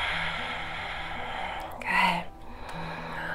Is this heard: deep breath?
yes